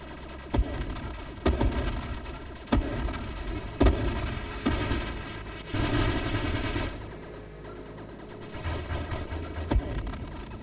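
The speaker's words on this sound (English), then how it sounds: "Shooting and when enemy ships explode feel very satisfying and impactful" Rapid gunfire and repeated blasts from ship weapons and exploding enemy ships in the space shooter game Nova Drift, sharp impacts landing every second or two over a dense, continuous electronic soundtrack.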